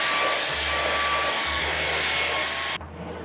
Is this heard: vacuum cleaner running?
yes